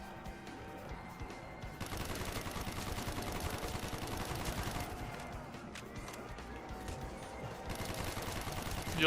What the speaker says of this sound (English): You like the ray gun?